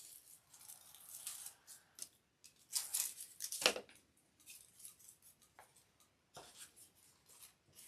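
Scissors snip through the stems of a bundle of tulips, a close series of crisp cutting crunches and rustles in quick, uneven bursts.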